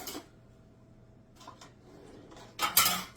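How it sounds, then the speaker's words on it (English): A kitchen scraper pulled from a set of utensils while making Portuguese sweet bread: faint clinks and rustles, then a louder rattle of metal utensils knocking together at the end. "Okay, let me grab my scraper."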